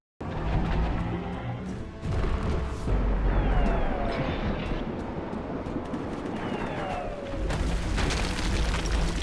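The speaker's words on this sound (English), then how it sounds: "This man just shot a Kami blast out of his throat." A loud, booming blast fired from a creature's throat in the Biomutant video game, with a sustained roar of explosive, crashing energy rolling through the whole stretch and several sharp bursts layered on top.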